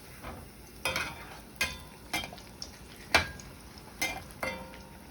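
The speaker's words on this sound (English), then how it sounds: "All you have to do is just put it in the oil, let it puff up, and just flip it over." Arepas frying in oil, a steady soft sizzle beneath a series of sharp, irregular pops and utensil clinks spaced roughly half a second to a second apart, fairly quiet and close.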